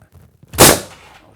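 A single sharp, loud blast from a powder-actuated nailer fastening a block in place, with a short ringing decay after the shot and only faint handling sounds before it.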